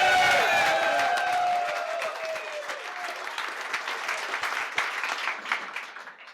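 An audience at a Startup Grind talk bursts into loud applause and cheering as a guest takes the stage, clapping dense at first, then thinning and fading over several seconds.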